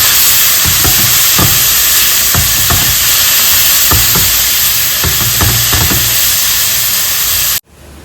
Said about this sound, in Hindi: जब तक वो मसाला थोड़ा सा फ्राई हो रहा है, भुन रहा है